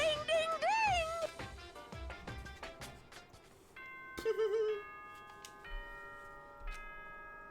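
A chiming announcement bell from the video game Danganronpa rings out in bright sustained tones, following a stretch of sung, melodic game audio with ticking accents; moderately loud, no speech over it.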